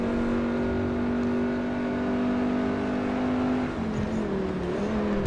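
Engine of a racing car in Forza Motorsport 4, a Class C European Tour event, holding a loud, steady high rev note close up before the pitch dips and climbs again as it is pushed near the limiter.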